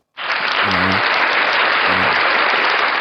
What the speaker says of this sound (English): I'd like to give President Joe Biden a round of applause